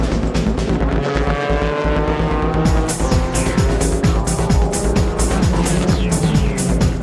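Racing cars roar around a JGTC circuit as the Xanavi Nismo Fairlady Z leads on the final lap, loud engines revving and shifting, passing cars whooshing by and tires squealing in a continuous dense wall of sound.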